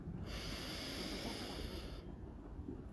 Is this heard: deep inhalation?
yes